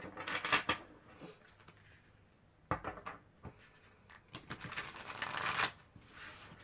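A deck of astrology oracle cards being shuffled by hand: repeated riffling, flapping bursts with brief pauses between them, close and moderately loud, ending in a long rising flutter, with no talking.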